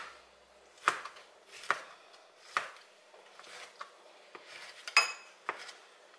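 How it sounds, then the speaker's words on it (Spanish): A knife chopping tomato into small pieces on a board, with about a dozen crisp, close cuts at an uneven pace and faint rustling between strokes, no talking. "luego vamos a cortar el tomate lo más pequeñito que puedan"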